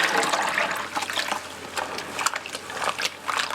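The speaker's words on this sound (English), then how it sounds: "So just give that a nice rinse." Yarn being rinsed in a basin of water after blue dyeing, with steady splashing and swirling that rise and fall in short surges throughout, close and moderately loud with no voices.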